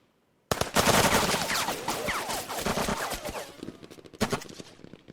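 Gunfire in the Lock 'n Load Tactical Digital war game comes as a loud, sustained burst of rapid machine-gun fire, then a short second volley as the sound trails off.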